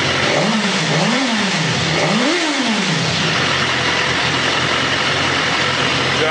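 A BMW S1000RR superbike engine revs in a few rising and falling blips near the start, then settles into a steady, loud, close idle with a raspy mechanical edge.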